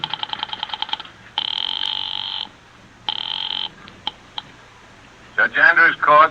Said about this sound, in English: I went out to the switchboard and dialed the courthouse number.